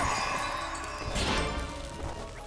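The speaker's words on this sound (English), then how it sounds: "the Crystal Maiden you're about to shatter" A sharp crash as the Crystal Maiden is shattered in Dust: An Elysian Tail, a single bright smash about midway, ringing briefly over steady game music.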